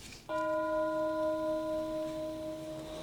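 A single bell chime rings out clearly after a brief quiet moment, its pure ringing tone sustaining and slowly fading over a couple of seconds, heard alone.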